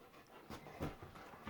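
Big Zin, a dog, pants quietly in quick rhythmic breaths, faint and close by, with a few louder huffs.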